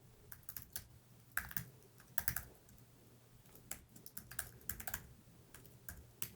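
An email address being typed on a computer keyboard, light irregular key clicks in short clusters with pauses between, quiet and close in an otherwise still room.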